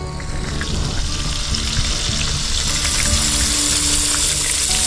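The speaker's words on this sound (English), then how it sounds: "Fry this up until she's nice and golden brown." Gator fillets frying in oil in a pan at an outdoor camp, a steady, loud hiss and crackle that runs unbroken throughout.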